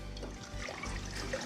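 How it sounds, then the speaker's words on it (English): Vinegar poured into a pan of water for beet pickling liquid, a steady close trickle and splash running throughout without pause. "Then we're going to add 2 cups of vinegar"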